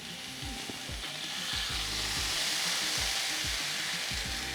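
Flat iron steak sizzling on a Ninja Foodi Grill, a close, continuous frying hiss with crackling pops and occasional spatter, steady and fairly loud throughout.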